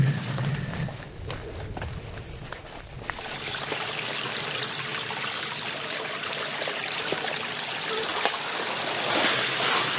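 A river flows along the Appalachian Trail in lower-elevation woods, giving a steady broadband rush of moving water that grows slightly louder toward the end, with faint scattered knocks.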